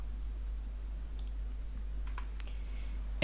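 A few light, sharp computer mouse clicks spaced apart over a quiet room hum, with a soft louder tap right at the end; no talking.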